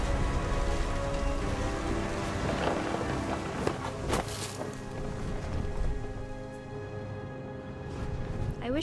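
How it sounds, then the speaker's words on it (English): Heavy rain pours in the video game What Remains of Edith Finch, a dense, continuous hiss of drops striking surfaces, loud and steady with occasional heavier splashes. "The rain came down in buckets then"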